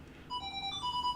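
A phone rings with an electronic melody of repeating high beeping tones, fairly quiet and heard alone with no talk over it.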